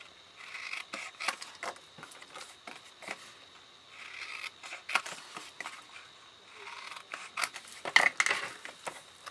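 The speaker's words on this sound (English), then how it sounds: "actually we could cut off the other 2 corners as well" Scissors snip through the corners of a cardboard gift box made for a large Yankee Candle jar, giving close, crisp cuts in short bursts of several snips with brief pauses between them.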